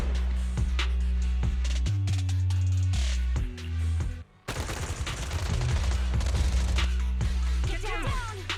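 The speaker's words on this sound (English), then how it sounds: "Gunfire? This pattern. Suppressive marching..." Rapid bursts of suppressive gunfire ring out during a Zenless Zone Zero game scene, loud and close, with repeated volleys and a brief lull mid-way amid game music and effects.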